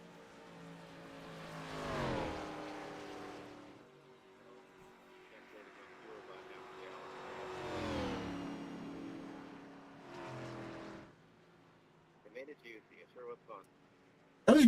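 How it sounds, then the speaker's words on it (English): Race car engine at a short-track O'Reilly series event, revving hard in long swelling bursts near 2 s, 8 s and 10.5 s, loud and close with a roaring tone, as a burnout is put on the tires; brief clattering bursts close the clip. "he's going to burn the tires off of it"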